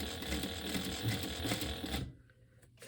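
A sewing machine stitches through fabric for a sling bag, a dense rapid mechanical whirring that runs steadily up close, then stops abruptly into a quieter stretch.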